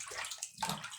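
Water running and splashing from a tap while ground beef is rinsed in a kitchen, a steady close wash with sloshing bursts.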